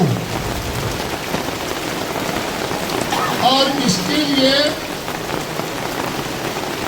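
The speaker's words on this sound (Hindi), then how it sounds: "हम लोग भरी बरसात में छाता ओढ़ करके बाजार के छतरी में इकट्ठा हुए" Heavy rain pouring steadily on umbrellas and a market shelter during an outdoor rally, a dense continuous hiss with a person speaking briefly over it.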